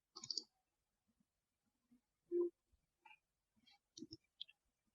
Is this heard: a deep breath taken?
no